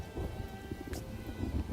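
Steady rain falls in the video game Farthest Frontier, a dense continuous patter with low rumbling, moderately loud and unbroken throughout.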